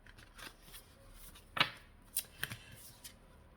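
Tarot cards being gathered up and shuffled by hand after several fell, heard up close as soft paper rustles with a few sharp snapping flicks, quiet and without talk.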